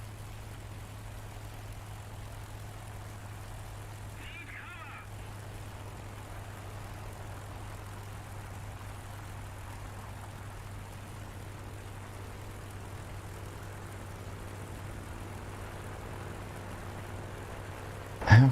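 Steady droning piston engine of a P-51 fighter plane in a flight sim video game, a constant propeller hum running throughout at moderate level with no talking.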